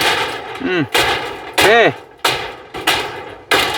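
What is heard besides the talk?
hammering nails into corrugated zinc roofing sheet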